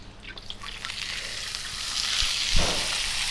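A seasoned ribeye steak hits the hot pan with a soft sizzle and hiss that builds steadily, a small thump and crackle as it lands, no one talking.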